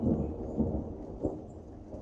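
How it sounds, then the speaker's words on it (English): Heavy thunder rolls as a low, continuous rumble that swells and fades with a faint dull boom in the middle, steady and fairly close, with no one speaking. "thunder is heavy today."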